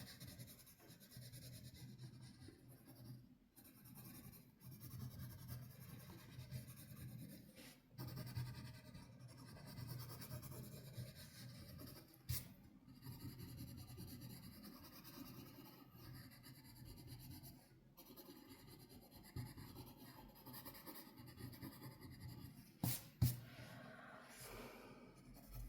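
Soft raspy scratching of Prismacolor colored pencils shading and blending wax layers into paper, steady faint rubbing strokes with brief pauses, close and quiet.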